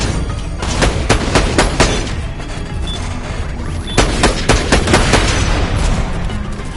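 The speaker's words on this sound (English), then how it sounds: "Love these cryo weapons." Cryo weapon gunfire in Borderlands: The Pre-Sequel, loud rapid bursts of shots in two clusters with crashing impacts, close and dense, alone.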